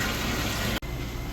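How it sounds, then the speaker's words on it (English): Water running into a sanitized sink, a steady, full rushing flow that dips for an instant before continuing at the same level. "we have filled up our sanitized sink with water to the water level"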